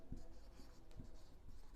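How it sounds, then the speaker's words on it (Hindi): Chalk or marker scratching across a board during a Hindi-language law lecture on criminal law, a few quiet strokes with soft taps, faint and close, with no talk over it. "मैं लिख देता हूँ"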